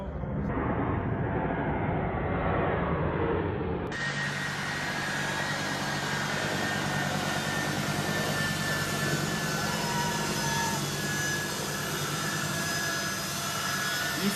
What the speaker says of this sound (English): These people are on this jumbo jet. This jumbo super massive.